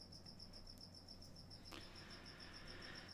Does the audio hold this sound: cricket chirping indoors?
yes